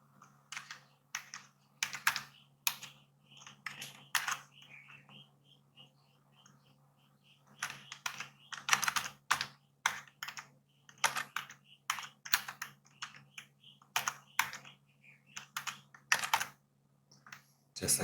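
Text being typed on a computer keyboard, with quiet, irregular key clicks in short bursts and brief pauses, close and alone over a faint steady hum.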